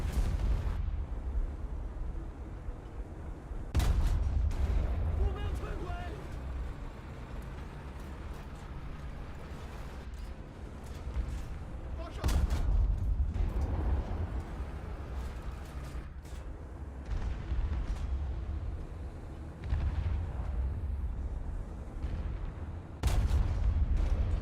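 Tank cannon fire and turret explosions from the War Thunder video game, a series of sharp heavy booms spaced several seconds apart over a low engine rumble, with no talk.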